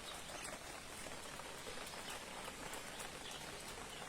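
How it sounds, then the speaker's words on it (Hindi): Rain falls steadily in a forest, a soft continuous hiss of drops with faint bird calls mixed in, even and unbroken throughout at low volume. "वर्षा"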